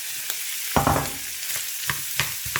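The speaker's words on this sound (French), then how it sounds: "40 g de beurre que nous allons faire fondre pour faire revenir le lard fumé" Smoked bacon sizzles in melted butter in a pan, a steady close frying hiss broken by soft stirring scrapes.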